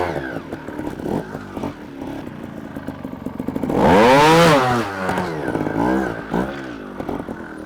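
A Beta Sincro 300 dirt bike engine revs hard in a loud rising-and-falling burst, with lower idling and blipping throttle around it and some clatter.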